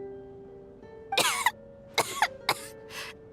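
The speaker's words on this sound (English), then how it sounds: "How long have you had that cough, Tonya?" A character in the video game Genshin Impact coughs in several harsh bursts, a long rasping fit followed by three shorter coughs, close and clear over a quiet steady game tone.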